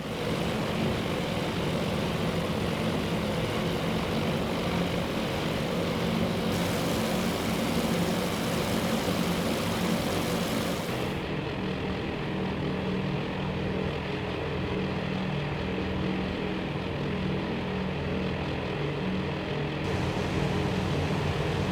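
Grumman Wildcat fighter planes circle overhead in the naval strategy game Task Force Admiral, their propeller engines making a steady, moderate drone that holds throughout with no voices.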